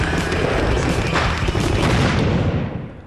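Gunpowder weapons firing: a loud, dense broadband boom that rumbles for a few seconds and fades at the end, with no voices.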